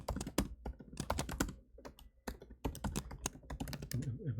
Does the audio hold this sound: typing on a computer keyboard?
yes